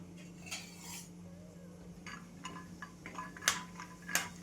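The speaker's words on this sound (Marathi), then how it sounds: "आपल्याला शेंगदाणे टाकून घ्यायचे. छान भाजून घ्यायचं तेलामध्ये." Peanuts roasting in oil in a pan for a cucumber and poha recipe, heard as a steady low sizzle under light metallic scrapes and clinks of a spoon against the pan, with sharper clacks near the end.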